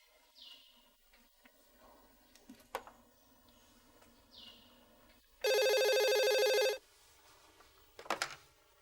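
A mobile phone rings with an incoming call, a loud sustained electronic ring lasting about a second, with faint chirps and small clicks around it and another short ring burst near the end.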